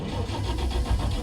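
A car engine grinds as it cranks repeatedly and fails to fire, a steady low mechanical churning heard up close with no talking.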